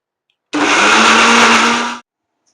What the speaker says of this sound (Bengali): এখানে আদা, রসুন আর একটু টমেটো আছে, এটাকে আমি পেস্ট কইরা নেব।